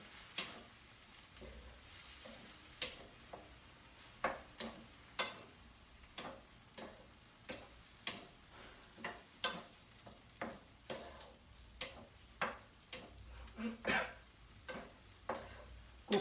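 Cracked wheat daliya with vegetables is stirred in a pan on the stove, giving a faint steady sizzle and a close series of regular scraping clicks from the spoon, with no talking.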